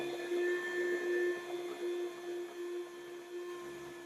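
A cheap electric meat slicer set to a thin position hums steadily while slicing a potato, giving a continuous whining motor tone at moderate loudness.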